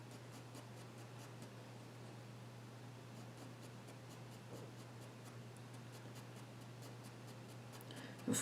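A pencil draws a realistic dog's ear on paper, making soft repeated scratchy strokes in a quiet room, faint and close, with a steady low hum beneath.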